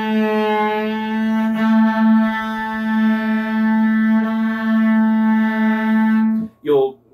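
Cello bows a sustained note together with the open A string, producing a steady, close drone with a slight beating pulse, then stops, and a voice begins briefly at the end.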